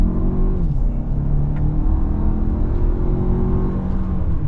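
A 2024 Lexus TX 350 pulls away hard at the start of a drive. Its engine climbs steadily in pitch and stays loud under continuous road and wind roar inside the cabin, with no talking.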